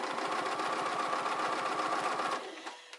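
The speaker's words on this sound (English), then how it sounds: "we're gonna just hit this with a nice little top stitch" Close, loud sewing machine running a fast, even top stitch through fabric at a lengthened stitch setting. The run lasts a few seconds, then slows to a halt with a couple of faint clicks.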